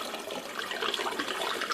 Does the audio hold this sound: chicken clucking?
no